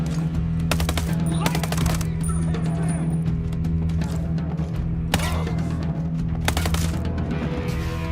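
Gunfire in the tactical shooter Ghost Recon Breakpoint comes in several loud bursts over a dense game soundscape of steady background hum, mechanical clatter and ambient noise.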